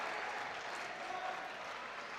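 A high school basketball crowd at Park Tudor vs. Pike cheers and applauds in a dense, steady roar of clapping and voices filling the gym throughout.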